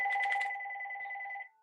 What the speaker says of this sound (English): And I've got a phone call.